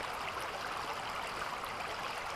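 A gold-bearing creek flows steadily outdoors, a constant close rushing babble of water with no breaks and no voices.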